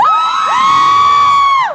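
An audience yells and cheers at the mention of a singer, a loud, sustained high-pitched crowd scream that swells and holds before cutting off, with no talking.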